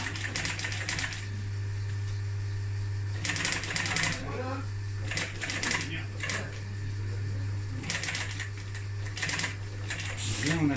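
Industrial sewing machine topstitching a Citroën C15 car seat cover, running in several short bursts of rapid stitching with pauses between, over a steady low hum, with a voice talking during the pauses.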